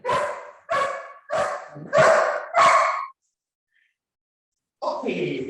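Dog barking during a training session: five evenly spaced loud barks close to the mic, then a pause, then a short burst of voice.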